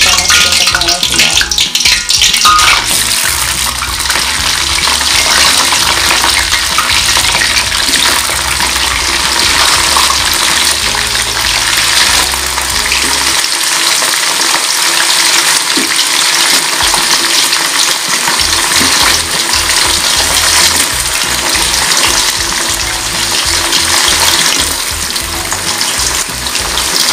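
Potato pieces fry in a pan of hot oil for a Betawi-style dish, giving a steady, loud, broadband sizzle that bubbles on without a break, close by and with no talking over it.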